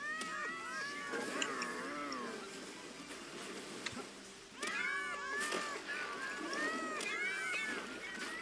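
A swarm of cartoonish cat meows fills a video game battle, with many overlapping rising and falling mews in two loud bursts separated by a brief lull.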